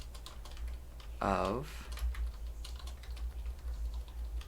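Fast clicking on a computer keyboard during a coding session, close and continuous, with a short spoken word in the middle.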